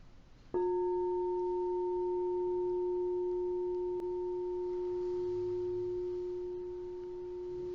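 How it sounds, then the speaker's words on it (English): A pure, steady tone on the musical note F starts abruptly and holds at one pitch for several seconds, quiet and unwavering, with only a faint background hiss. "Now the musical note for the heart is F."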